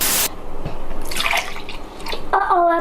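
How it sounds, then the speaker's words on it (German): Drinking water from a large canister at a Kenyan altitude training camp in Iten being refilled into a bottle: a close, loud gurgling pour with bubbling splashes, rising toward a hollow filling tone near the end. "Die füllt man sich dann einfach um in seine Flasche"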